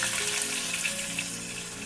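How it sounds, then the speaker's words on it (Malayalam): Prawn biryani base frying in a generous amount of extra oil until dark brown, a steady close sizzle with faint stirring and low hum throughout, no voices. "ഇതൊരു ഡാർക്ക് ബ്രൗൺ ആവുന്ന വരെ ഒന്ന് വാട്ടിയെടുക്കാം. വാട്ടിയല്ല, ആക്ച്വലി ഫ്രൈ ചെയ്തിട്ടാണ് എടുക്കുന്നത്, കുറച്ച് എണ്ണ അധികം ഒഴിച്ചിട്ട്"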